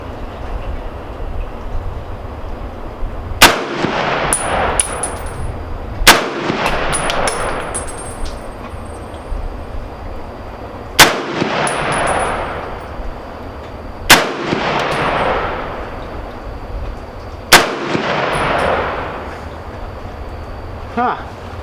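Five loud, sharp M1 Garand rifle shots ring out at an outdoor shooting range, spaced a few seconds apart, each with a trailing echo, while someone talks quietly between them.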